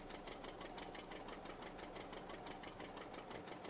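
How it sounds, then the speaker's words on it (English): A small 620 tractor in Farming Simulator 22 runs with a steady, rapid mechanical chug, a constant rhythmic engine thrum that holds evenly throughout, close and without talk. "we're in the 620. I love these little tractors."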